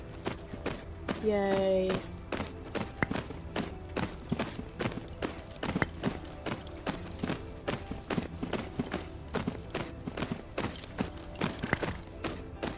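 Horse hooves trotting in the video game Tales of Rein Ravine, a steady run of light clip-clops with a brief whinny near the start, a player's voice speaking briefly over the gait.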